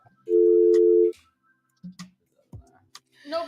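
A broken studio telephone sounds a steady dial tone for under a second, followed by scattered clicks and short bursts of talk.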